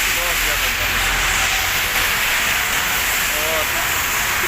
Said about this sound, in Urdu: آج تو بہت زیادہ بارش ہے، میری نظر میں بہت زیادہ بارش ہے۔